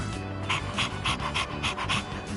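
Koromaru, a dog in the video game Persona 3 Reloaded, pants in a steady rhythm of quick breaths over a low game music backdrop, close and moderately loud.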